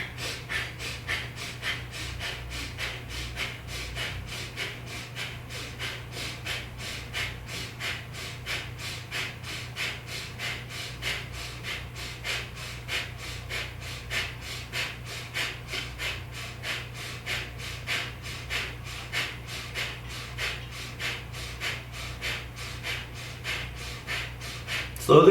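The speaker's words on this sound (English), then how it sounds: "This breath work might also be new to some of you. It's called Bhastrika." Rapid Bhastrika breath work, forceful inhales and exhales pumping in an even, quick rhythm for a long stretch, close and moderately loud, with no talking.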